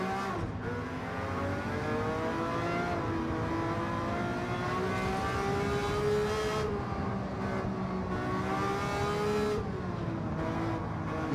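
A 1960s Ford race car engine revs steadily in Gran Turismo 7 at a Goodwood Revival night race, its loud continuous drone rising and falling in pitch through gear changes, with no talk.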